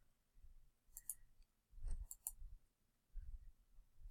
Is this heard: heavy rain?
no